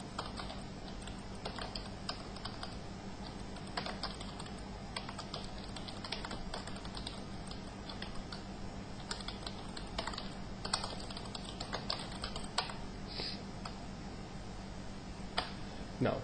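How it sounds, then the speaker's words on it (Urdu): Employee names are being typed into a Word 2007 document on a computer keyboard, a steady stream of close, fast key clicks over a faint hum, with no talk. "امپلائیز کے نام جو ہے وہ بلٹ آرڈر میں ٹائپ کر لیتا ہوں."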